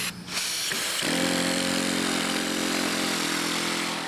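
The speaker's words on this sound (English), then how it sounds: "This is a steam engine we make in our precision machining class, and everybody has to make it, and we'll run it for you if you want." A mini steam engine built in a precision machining class starts up and runs with a steady, loud mechanical whir, its tone holding constant after a brief sputtering start.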